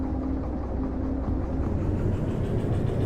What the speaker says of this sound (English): When set correctly, we're going to roll this train